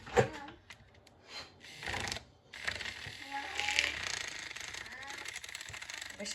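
A small blender whirs in short bursts while mixing a drink in a cup at home, its motor buzzing and rattling unevenly, run gently rather than at full power, with some background noise.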